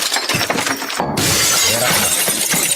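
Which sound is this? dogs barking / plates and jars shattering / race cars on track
plates and jars shattering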